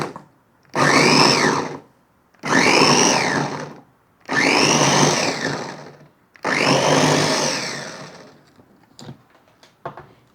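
An electric chopper runs in four long pulses of a couple of seconds each, whirring loudly and close up as it chops tomatoes, with brief pauses between pulses and a few small clicks at the end.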